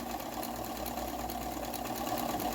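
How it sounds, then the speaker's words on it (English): A sewing machine running a wide zigzag stitch, its motor whirring in a steady, even drone close by for the whole stretch, with no voices. "we're going to sew this down with a zigzag stitch"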